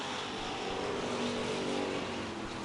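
Hoosier stock cars roar around the Merrittville oval in a dense, continuous wash of engine noise, several cars blending into one steady loud drone with no talk.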